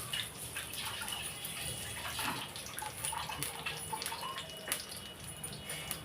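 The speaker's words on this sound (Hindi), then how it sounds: "हाथ धुल लेते हैं।" Hands are washed under a running tap, a steady close splashing stream of water that continues throughout with small drips and shifting splashes.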